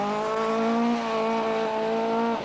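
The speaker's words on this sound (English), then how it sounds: "this is Walter Roll in the Italian Fiat Abarth 131" Fiat Abarth 131 rally car on the 1979 RAC Rally, its engine holding a loud, steady droning note close by before the pitch drops sharply at the end as it passes.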